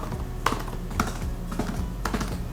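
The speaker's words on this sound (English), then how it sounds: "When the old one bottoms out, it makes this clacky sound, whereas the new one makes a more satisfying thunk." Two laptop keyboards, an old model and a newer one, are typed on in turn. Sparse, close keystrokes come about every half second, mixing a clacky bottoming-out click with a duller thunk against a low steady hum.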